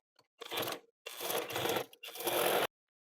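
Sewing machine stitching the neckline of a short kurti, running in three close, steady bursts of whirring, clattering needle action separated by brief stops.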